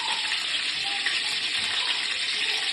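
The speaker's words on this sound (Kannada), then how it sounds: "ಎಣ್ಣೆ ಕಾಯ್ತಾ ಇದೆ" Oil heats in a pan while cooking chicken curry, giving a steady, close hiss and sizzle that holds evenly throughout with no talking.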